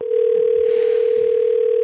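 A telephone line gives a steady, loud continuous tone close to the earpiece, with a brief hiss over the middle. No voices are heard.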